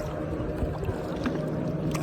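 Kayak paddled on open water at Malvan, soft continuous water and paddle sloshing with a steady low rumble of wind or boat noise, moderately faint with no clear voices.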